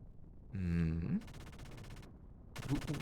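Video game gunfire from Xenogears, bursts of rapid mechanical shots in two stretches with a brief pause between, over a low droning background, fairly loud and close with no talk.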